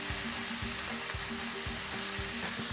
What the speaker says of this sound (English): hear that sizzle?